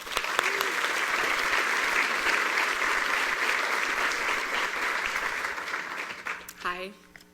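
An audience at a 2019 White Coat Ceremony applauds to welcome a speaker to the podium: steady, dense clapping that fades out near the end as a voice begins speaking.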